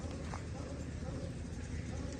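Local desi horse hooves clip-clopping at a tent pegging (nezabazi) ground, a faint rhythmic patter under continuous background noise and crowd sound.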